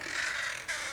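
Crows caw harshly and continuously over a wooded lot being cleared at Ocean Shores, Washington, a near, loud run of calls with a brief dip before the cawing resumes.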